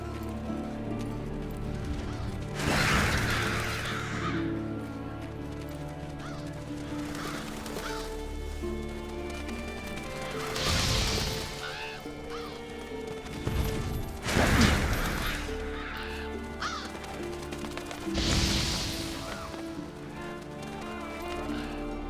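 Black scavenger birds called Revoltures caw in the video game Monster Hunter World during a Witcher crossover quest: raucous bursts come every few seconds over continuous ambient game music, with what sound like hoofbeats mixed in.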